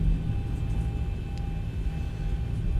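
A Boeing 737-800 in the X-Plane 11 flight simulator taxis with a steady, even engine drone and broad rumble, constant and moderately loud throughout, with no voices.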